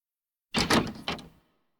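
A door in a fairy tale about the wolf and the seven young goats swings open with a close, short creak and clunk in two quick bursts, then silence, with no voices.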